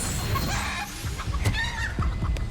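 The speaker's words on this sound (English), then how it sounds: "Turn her into a chicken." Chicken clucking and squawking in short, scattered bursts from an enemy transformed into a chicken by a spell in the Hogwarts Legacy game, heard over faint background game ambience.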